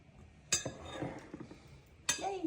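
Egg and veggie mixture stirred in a bowl, with a utensil clinking against the bowl in two sharp strikes and softer scraping in between, fairly quiet.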